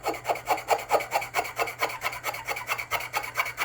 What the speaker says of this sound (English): let me turn the sound on for you so you can experience the pleasure of these markers